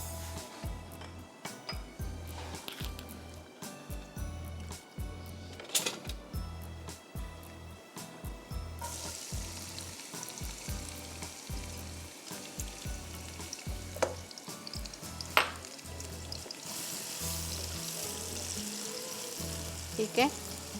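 Chopped onions frying in half a cup of Italian pomace olive oil for a Pakistani karahi, a steady close sizzle with bursts of crackle and stirring clatter running throughout, a voice talking over it at times.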